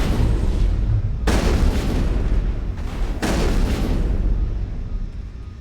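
Heavy gunfire and rumbling explosions from the video game Mass Effect, a continuous loud barrage with two sharp blasts breaking through the dense roar.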